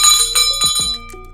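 A bell hanging in a bar is rung with a few quick, bright metallic strikes close by, and its ringing tone decays within about a second.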